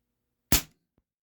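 A single sharp air rifle shot firing an H&N Baracuda heavy pellet, close and crisp with a quick decay, followed by a faint dull knock a moment later.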